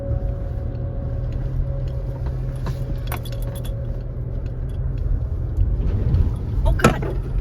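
A vehicle's engine hums low and steady while driving off-road through Ocala National Forest, growing a little louder toward the end, with jangling keys, clinks and rattles on top and a faint voice.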